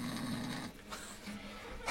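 A voice imitates a snore, a short throaty rasping breath followed by a quieter second intake, close and dry, ending in an abrupt loud burst.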